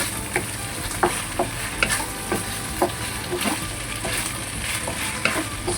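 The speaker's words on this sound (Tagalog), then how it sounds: "Lagyan po natin yung ating slurry." Celtuce stir-fried with egg and black fungus sizzles in a wok as cornstarch slurry goes in, with a spatula scraping and tapping in a quick, irregular rhythm over a constant close frying hiss.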